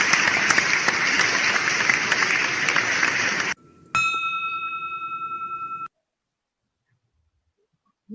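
A ceremonial bell struck once to open a formal meeting, ringing with a clear sustained tone that fades after about two seconds, following a burst of loud applause-like noise.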